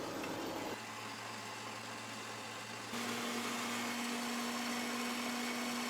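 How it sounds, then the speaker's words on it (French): An electric mixer whips liquid cream into chantilly, giving a steady, close motor whir that drops slightly in pitch early on, then shifts to a brighter, louder drone partway through, continuous and with no talking. "J'ai monté notre crème liquide en chantilly et je vais rajouter les 2 fromages"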